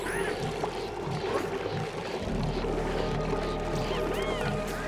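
Water pumping in the colony-building game Oxygen Not Included, with a steady low hum under a continuous watery gurgle and occasional light splashy blips, no talking.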